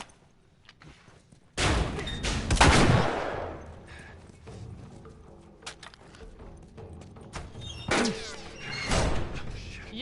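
Gunfire in the video game The Last of Us comes as loud, close bursts of several rapid shots, then quieter clatter and another volley of shots near the end.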